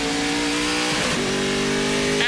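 A Speedcar Series race car with a traditional H-pattern gearbox accelerates at Bahrain International Circuit, its engine note loud and close, rising, dipping through a gear change, then climbing again.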